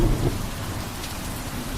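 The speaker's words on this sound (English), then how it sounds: "It is raining at a pretty good clip." Heavy rain pours down on a solo campsite in the Ozark National Forest, a dense, continuous close hiss with a low thunder rumble at the start and no voices.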